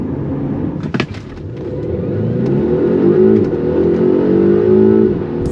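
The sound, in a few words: Polestar 1 car driving on the road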